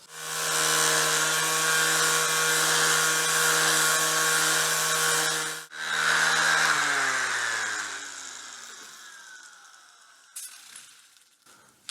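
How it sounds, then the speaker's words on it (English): An angle grinder, loud and close, strips white glue residue from the edge of a board. It whines steadily for several seconds, cuts out briefly, restarts, then spins down slowly, leaving faint clinks. "I'm going to grind off this white stuff all along the edge here"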